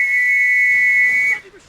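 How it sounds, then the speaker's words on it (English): An infantry trench whistle gives one loud, steady shrill blast lasting over a second, then cuts off abruptly, with faint background game sounds beneath and after it. "I do have an infantry trench whistle right here"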